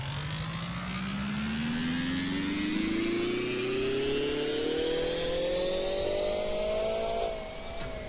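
A combustion engine swapped into an electric roadster revs steadily upward in pitch for about seven seconds, loud and close, then eases off near the end; no voices.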